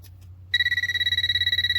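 A TopTes PT760 rechargeable natural gas leak detector sounds its alarm after a quiet moment, a loud, fast pulsing electronic beep, two piercing tones repeating rapidly and evenly, very close to the listener.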